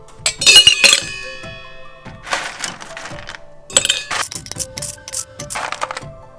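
Ice cubes dropped into plastic cups, thirteen per cup, in a cup comparison: bursts of bright clinks and clatter come in separate clusters, fairly close, with no talking.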